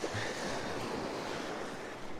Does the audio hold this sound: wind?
yes